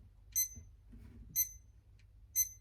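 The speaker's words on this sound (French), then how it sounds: "Décidément, à chaque fois le réveil." Three short, bright electronic alarm-clock chirps spaced about a second apart, each a brief beep burst, fairly clear over a low background hum in a quiet room.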